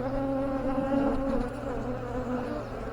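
Honeybees buzz in a dense, steady drone close by throughout a hive inspection after smoking, with no other sounds over them.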